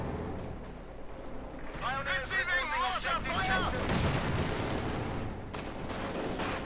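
Mortar blasts and scattered gunfire from a Company of Heroes 2 battle crackle and thump in steady bursts, while a voice talks over the combat.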